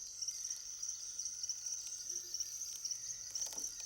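A cricket chirps in a steady, high, continuous trill, close and clear, with faint rustling and soft background noise around it.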